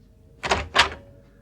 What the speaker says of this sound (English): I was aroused out of the dreamless by the sound of the door opening